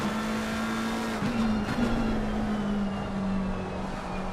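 A McLaren 720S GT race car circles the Brands Hatch circuit during a GT Challenge race, its engine holding a loud, steady drone throughout, with a brief tire scrub partway through.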